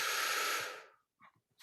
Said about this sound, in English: and then a big deep breath